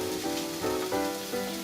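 Butter sizzles in a pan holding fried shimeji mushrooms and onions for a salmon pie, a steady close crackling hiss with a faint tonal hum running underneath.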